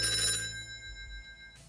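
A telephone rings twice in quick succession on an incoming call to a live television phone-in show, clear and fairly close, then cuts off into a brief low rustle.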